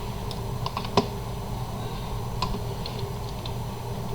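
Sparse keystrokes on a computer keyboard, a handful of light clicks with one sharper press standing out near the start, alone over a steady low electrical hum.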